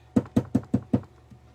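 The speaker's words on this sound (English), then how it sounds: "I think it's someone's knocking." Five evenly spaced knocks on a door, close and crisp at a steady quick rhythm, followed by quiet with a faint tap near the end.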